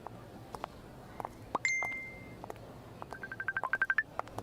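A telephone rings quietly indoors at a radio station, a short electronic tone followed by a rapid burst of repeated chirping rings, over faint background clatter.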